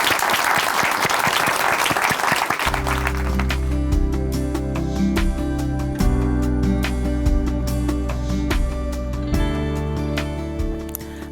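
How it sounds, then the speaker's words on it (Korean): Studio audience in a Korean Christian television broadcast studio breaks into loud, sustained applause, a dense wash of clapping that holds steady to the end under a low musical bed. "박수를 모시겠습니다."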